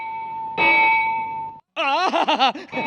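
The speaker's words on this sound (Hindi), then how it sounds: "अरे घंटा बज गया, घंटा बज गया।" Temple bell struck, with a bright metallic ring that sustains and cuts off, followed by excited voices talking over more ringing tones.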